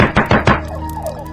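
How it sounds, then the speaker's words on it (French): Three firm knocks on a door in quick succession, loud and close, each a dull thunk, followed by a quieter ringing tail with no voices. "Allez, il faut frapper à sa porte."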